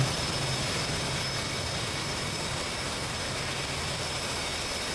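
A plane engine roars steadily during takeoff in a video game, a dense, loud, continuous jet-like drone that holds even throughout with no voices over it.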